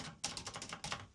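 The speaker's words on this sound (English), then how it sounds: "typewriter" Typewriter keys are pressed in a quick burst of light, faint clacks, several strikes within about a second, close by and with no talking.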